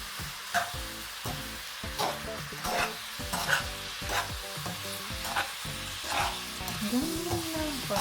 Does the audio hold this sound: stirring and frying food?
yes